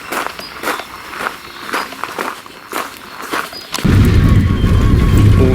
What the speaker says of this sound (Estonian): Plekist maja iga sammu peale nagiseb